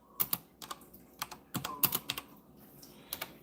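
Fingers tap out quick bursts on a computer keyboard, the clicks coming in uneven clusters with short pauses, close and fairly quiet, with no one speaking.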